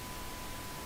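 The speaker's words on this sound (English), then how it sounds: "We hear some pink noise." A pink noise test signal hisses steadily and evenly, with a faint steady 1 kHz tone running beneath it, in a brief continuous burst.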